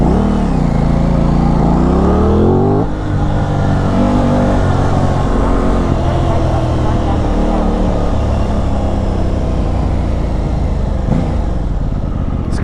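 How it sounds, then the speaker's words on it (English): Aprilia RS660 motorcycle engine, stock, loud and close. It revs up as the bike accelerates, drops briefly around a shift, then holds a steady drone under wind noise. "the bike sounds really good, even stock"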